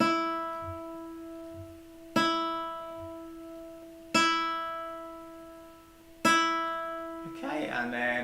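A guitar's top E string is plucked as a tuning reference, four clear single notes spaced about two seconds apart, each ringing and fading, with a voice beginning to speak at the end.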